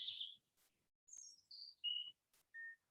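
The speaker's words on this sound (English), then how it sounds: "Little birds tweeting." Small birds tweet faintly in the distance with about five separate high, short chirps and whistled notes, spread out over quiet stillness with no voices.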